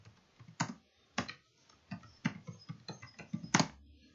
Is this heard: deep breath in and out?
no